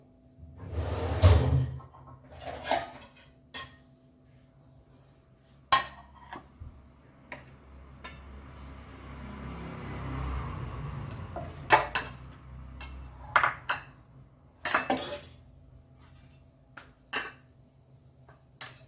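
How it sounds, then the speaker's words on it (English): A plate is taken out of a kitchen cupboard, with scattered knocks of dishes and cutlery and a cupboard opening and closing in bursts, nearby and fairly loud, with no talking. "take a plate."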